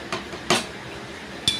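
A ladle knocks and clinks against a pot of tomato and drumstick curry as it is stirred, then the lid goes on. Three sharp metallic taps come at close range over a quiet background.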